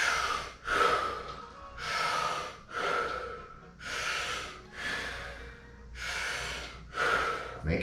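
Rapid rhythmic breathing during a yoga breath round in a yoga class for BJJ practitioners, with repeated forceful inhale-exhale cycles roughly every second, loud and close with no talking.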